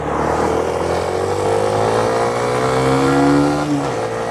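A Suzuki Van Van 125 motorcycle ridden along a road, its single-cylinder engine droning steadily up close with rising and falling revs as it pulls through gears, loud and alone without talk.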